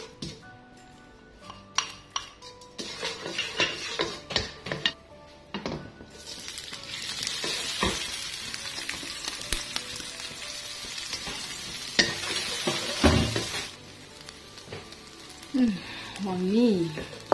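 Garlic stir-fried in a pan, sizzling steadily with intermittent scraping and clinks of a utensil against the metal, growing louder midway, while someone talks over it.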